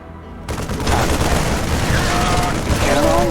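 Loud, dense bursts of gunfire in a StarCraft 2 campaign battle, rapid overlapping shots and booms that start abruptly and keep rolling, with voices shouting over the din.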